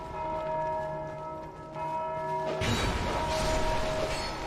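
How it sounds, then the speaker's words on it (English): Church bell in Dark Souls 2 ringing with a long sustained tone, then a burst of crashing noise cuts in while the ringing lingers beneath, moderately loud. "This bell sample though is like really messing me up"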